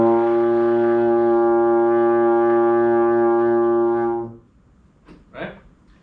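A baritone horn sustains an open concert B flat for about four seconds, a steady, loud, harmonically rich brass tone that stops abruptly, followed by a brief faint murmur.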